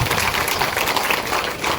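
Women in an audience at a booth workers' gathering clap together, a dense, steady ripple of applause that carries on continuously for the whole moment.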